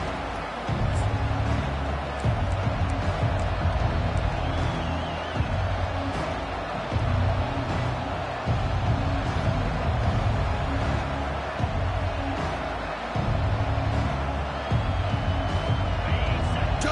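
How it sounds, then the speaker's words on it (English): Home stadium crowd roaring steadily in the college football video game NCAA 25, a dense constant wall of cheering that persists beneath game commentary throughout. "this home crowd is fired up and ready to make a difference today"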